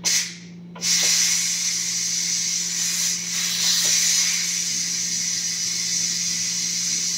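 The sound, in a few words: steam hissing while cooking beetroot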